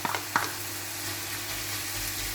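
Bacon lardons with raw sauerkraut sizzle and fry in a pan, a steady soft crackling hiss with a couple of sharp clinks or stirring knocks near the start, no one speaking.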